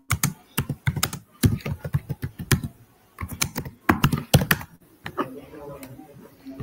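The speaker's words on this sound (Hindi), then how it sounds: "कीबोर्ड पे कौन इतना दबा के मार रहा है?" A computer keyboard is struck hard in rapid bursts of loud, close clacking keystrokes, with short pauses between the flurries and no voices.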